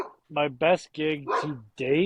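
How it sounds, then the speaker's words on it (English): A dog barks at strangers outside, its short, harmonic barks in several bursts mixed in with someone talking close by. "That's my dog. Yeah, He's just barking at strangers"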